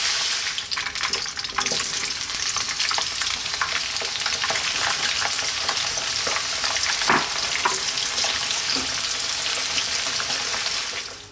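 Carrots sizzle loudly and continuously in hot sunflower oil for an Ethiopian fasoliya tibs dish, with intermittent crackles and stirring sounds close up.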